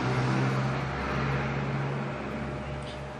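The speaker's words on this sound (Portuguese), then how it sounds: "Tem que passar carro barulhento aqui" Noisy car passing by outside, a low rumbling engine drone that swells and then fades over a few seconds, heard from indoors with no clear voices.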